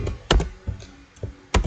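Keys on a computer keyboard clack in a short, uneven burst of a few presses with pauses between, close and clear in a quiet room with no talking.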